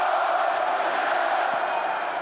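Russian football crowd at a Russia v Slovenia match, a dense, sustained roar of chanting voices from the stands, steady and fairly loud throughout.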